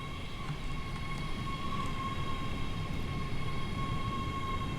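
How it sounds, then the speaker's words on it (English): A ScotRail class 385 electric train pulls away in the video game Train Sim World 5, a steady whine of high traction tones over a low rumbling roll, continuous and fairly quiet. "So that 385 is now departing."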